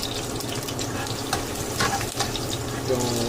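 Crab stir-fried in a hot pan for ginger onion sauce, with a steady broadband sizzle and frying hiss, the occasional scrape of stirring, loud and close.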